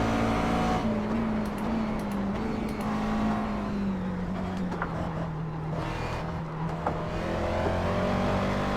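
A race car engine in iRacing pulls hard under acceleration, a loud steady drone that rises and falls through the gears, with faint ticks and clicks over it.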